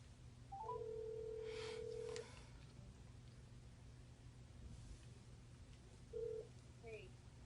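A phone call to a friend begins with a long steady tone on the line, then a quiet low hum. A short tone follows later, faint against the background noise.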